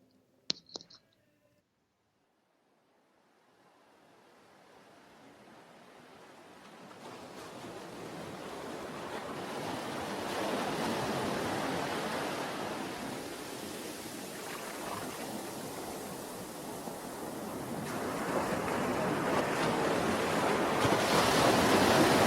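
Ocean waves: after a few faint clicks and near silence, surf swells in and builds into a steady, loud rushing wash that rises and falls, with wind-like breaks, and no one speaking.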